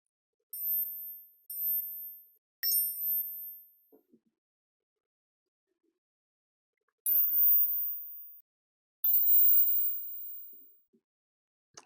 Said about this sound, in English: That's a good notification right there.